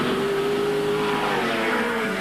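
A big V8 Camaro race car at Amaroo Park in 1982 holds a loud, steady engine drone as it is driven hard, a continuous close roar with a faint tire squeal.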